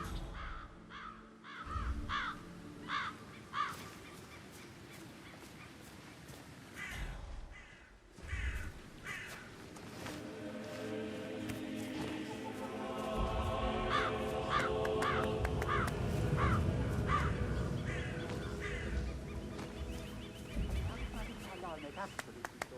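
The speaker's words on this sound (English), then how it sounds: "Damn birds." Crows caw repeatedly in the Dartmoor countryside of the video game Hitman 3, harsh calls in a steady series over background game music and ambience.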